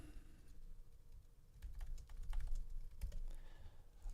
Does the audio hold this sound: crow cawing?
no